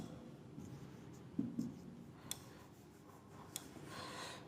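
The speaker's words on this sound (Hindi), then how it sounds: "इसको लिखता हूं मैं वापस एक बार।" Maths equation written out by hand, pen scratching and tapping in short strokes, faint and close against a quiet room hiss.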